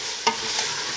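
Vegetables and garlic cook in a pot for a beef stew, giving a steady sizzling hiss with a single brief scrape or stir near the start.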